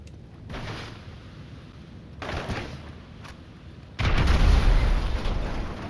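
Grenade explosions in the video game GTA 5 Online: several heavy booms with rumbling low end, a larger blast near the end, mixed with steady game ambience and no talk.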